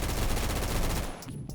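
Rapid full-auto bursts from the IA2 AR rifle in the Roblox game Phantom Forces, a dense, loud stream of gunfire that stops abruptly near the end, leaving a brief quieter tail.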